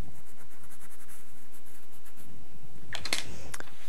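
A pencil traces a pattern onto double-sided tape in quick, light scratchy strokes, with a sharper burst of scribbling near the end over a faint background hum.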